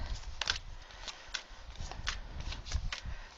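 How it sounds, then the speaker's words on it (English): Tarot cards are shuffled close up in a quick run of riffling flicks and soft slaps, with a steady rhythm and no talk. "Just clearing the cards, getting ready for Chris's question."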